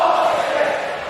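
Steady, dense murmur of a large stadium crowd at a college baseball game, Texas A&M against Florida at the Men's College World Series, a continuous even roar with no clear cheers or single voices.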